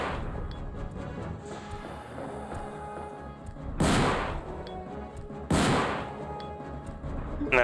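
Gunshots fired at a zombie in Resident Evil 2, two loud booming blasts a couple of seconds apart over a steady game soundscape, no talking.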